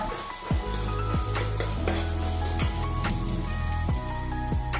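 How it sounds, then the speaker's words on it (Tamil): Onions and green chilies sizzle steadily in a hot pan, with a few sharp scrapes of stirring cutting through the continuous crackle. "4 பச்சை மிளகாய் நல்லா பொடியா நறுக்கி இந்த மாதிரி வதக்கிக்கோங்க."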